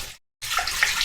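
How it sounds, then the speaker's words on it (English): Watermelon juice pours into a FreshTech jam maker in a steady splashing stream. It starts, breaks off briefly, then resumes as a close, continuous liquid rush with no talk. "you pour your fruit, in this case liquid,"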